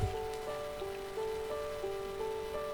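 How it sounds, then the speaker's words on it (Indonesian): Light night-time drizzle falls outside as a steady, soft patter, quiet and continuous beneath clear, sustained melodic tones. "di sini agak sedikit gerimis"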